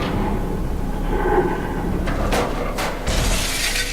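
A glass orb shattering in the game Myst III Exile, a couple of sharp bright cracks and a final crash over a constant loud ambient game drone, with no talk.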